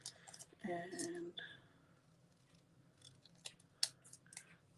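Scissors snipping along a line in card stock, a brief close crunchy cut near the start followed by quieter scattered clicks and snips in a hushed setting.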